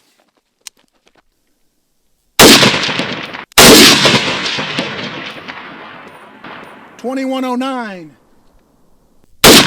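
Zastava ZP Krinkov-style rifle in a 10.5-inch short configuration firing Bellum ammunition: two sharp, loud gunshots with long ringing decay, after isolated faint clicks, followed by a brief electronic chronograph beep and another shot starting at the end.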